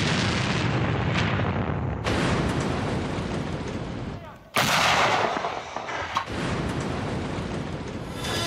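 Heavy gunfire and artillery crack and boom in dense, overlapping bursts during an assault backed by tanks and infantry fighting vehicles on a Donbass mine, loud and continuous with sharp blasts around the middle.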